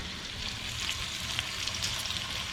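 Bacon sizzling and frying in a pan for a chicken breakfast meal, a steady dense crackle with scattered sharper pops, close and continuous with no talking.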